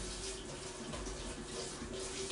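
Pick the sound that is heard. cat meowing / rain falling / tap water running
tap water running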